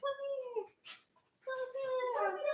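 Dogs whimper and howl in drawn-out, tonal cries as they are dropped off, with a short burst of noise between two whining phrases, fairly close and loud.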